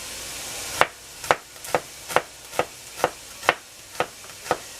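A knife chops vegetables for chicken vegetable soup on a cutting board with nine sharp, evenly spaced strokes, close and clear, with no talk over them.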